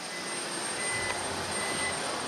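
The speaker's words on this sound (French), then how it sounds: "Je marche au milieu des avions" Steady broadband roar of aircraft on an airport tarmac, jet engines whining continuously at moderate distance with a faint high tone on top, no pauses.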